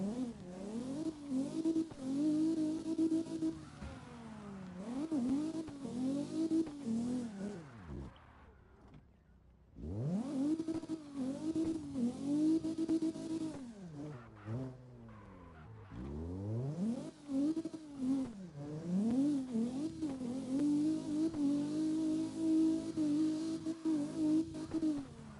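Cars drift in the video game CarX, engines roaring and revving in long rising and falling sweeps, with tyre screech layered in, broken by two short near-silent gaps, loud and continuous without talk.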